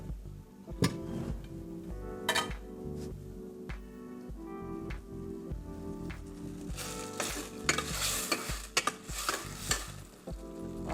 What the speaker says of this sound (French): là je suis en train de tourner notre oignon